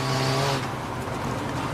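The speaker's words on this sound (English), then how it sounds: "This is a 2017 Audi TT, a front-wheel drive 2-litre TDI engine car." A 2017 Audi TT with a front-wheel-drive 2-litre TDI diesel engine racing at Brands Hatch Indy, a loud, close, steady engine roar with a broad rushing tone, heard alone.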